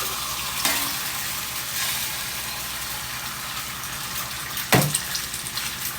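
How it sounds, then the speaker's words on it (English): Two eggs hitting hot avocado oil in a pan, a steady bright sizzle and crackle throughout, with a couple of sharper bursts as each egg lands or shifts. "But I want to crack these 2 eggs in here."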